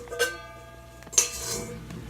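A cooking pot for noodles is handled in a home kitchen, with two separate metallic clanks about a second apart, each ringing briefly against a quiet background.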